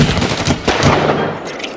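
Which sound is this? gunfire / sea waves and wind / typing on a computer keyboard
gunfire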